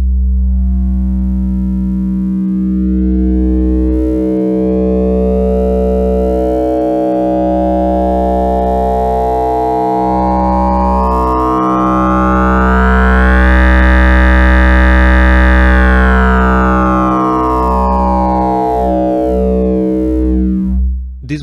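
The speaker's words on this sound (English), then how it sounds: "We have here a sine wave connected to the input 1." A steady synthesized sine wave passes through a Corsynth C113 wavefolder, its timbre growing brighter and buzzier as harmonics fold in, peaking mid-way, then softening again; loud, continuous, with no voices.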